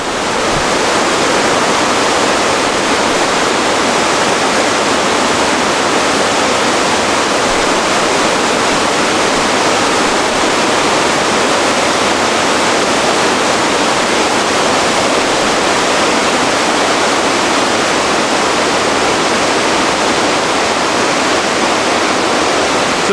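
A river tributary along a hiking trail rushes steadily and loudly, a dense, unbroken roar of flowing water that holds constant for the whole stretch without any voices.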